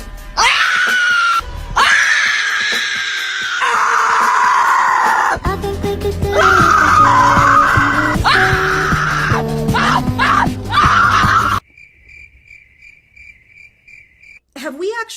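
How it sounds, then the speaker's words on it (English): A group of people performs a loud, sustained screaming chant, high wailing voices layered and shifting in pitch for about eleven seconds before cutting off abruptly, followed by a faint steady tone. "Did you know they got this little screaming thing they do?"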